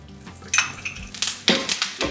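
Ghee popping and sizzling in a hot Smithey cast iron pan, sharp crackling bursts and spits arriving in quick irregular clusters over a low hiss, close and without talk.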